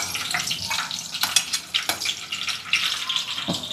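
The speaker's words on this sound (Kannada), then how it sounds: "ಚಿಲ್ಲಿ ಸ್ವಲ್ಪ ಫ್ರೈ ಆಗಲಿ ಚೆನ್ನಾಗಿ." Green chillies sizzle and crackle in hot oil in a pan, a dense steady frying hiss with scattered pops and a few stirring scrapes, close and continuous with no talking.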